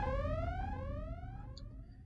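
A sci-fi alarm aboard the Space Colony Ark in the Shadow the Hedgehog video game, a rising and falling harmonic siren sweeping steadily and loudly, gradually fading slightly toward the end.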